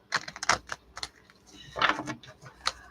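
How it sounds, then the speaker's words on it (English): A deck of tarot cards is given a vigorous hand shuffle, with a run of crisp, clicky slaps and riffles in irregular clusters, close and fairly loud, with no talking. "I'm giving this a good shuffle"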